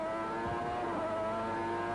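A 1990 Formula 1 car in qualifying at the Australian Grand Prix, its high, steady engine whine sustained at close range with a brief shifting pitch, alone without talk.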